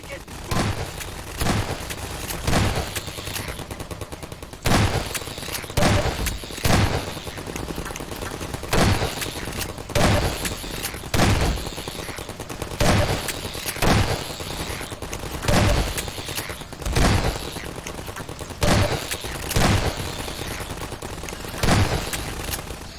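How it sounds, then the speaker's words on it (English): Repeated gunfire against antlions in Half-Life 2: Episode 2, sharp shots and bursts recurring every second or so over a constant din of combat noise, with talk running underneath. "See, the trick is to shoot the antlines."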